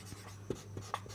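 Chalk or marker scratching across a board during a Hindi-language general studies lesson, a few short faint strokes over a low steady hum, no talking.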